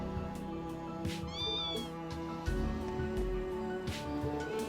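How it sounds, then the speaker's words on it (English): A cat meows in the video game Trails Into Reverie, several short rising calls over steady background music, no talking. "Well, aren't you a happy little kitty?"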